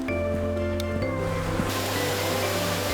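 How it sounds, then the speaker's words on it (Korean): Mountain stream water rushing steadily through the Gugok Falls valley near Chuncheon, Gangwon, a constant close wash of flowing water with sustained musical tones underneath. "시원하게 흐르는 계곡물을 따라서 한 걸음 한 걸음 가볍게 걷는 길."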